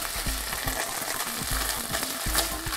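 Tortilla soup ingredients sizzle steadily in a pan over medium-high heat, left to catch and burn onto the bottom, with a soft repeated knocking of stirring throughout and no talking.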